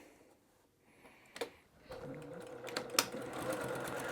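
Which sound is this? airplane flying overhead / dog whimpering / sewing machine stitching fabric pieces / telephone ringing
sewing machine stitching fabric pieces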